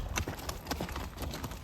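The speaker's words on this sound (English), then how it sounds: "Can you see the horse loping?" Horse loping, with rapid, continuous hoofbeats thudding in a steady rolling rhythm, close and fairly loud with no talk.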